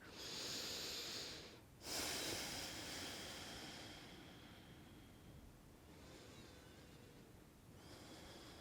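Slow, audible breaths are drawn and released through the nose during a yin yoga pose, close and airy, with a long exhale, a short pause, then softer continued breathing.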